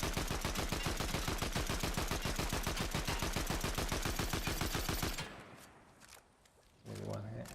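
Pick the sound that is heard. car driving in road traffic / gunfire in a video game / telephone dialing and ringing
gunfire in a video game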